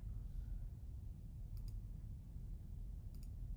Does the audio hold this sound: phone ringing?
no